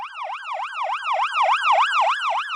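Ambulance siren wailing close and loud, a fast repeating rise-and-fall tone cycling about ten times in quick, even rhythm with no voices over it.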